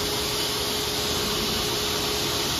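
A TS-J39 automatic aluminum profile cutting machine runs with a loud, steady broadband roar and a constant tonal hum, unbroken and close, with no voices.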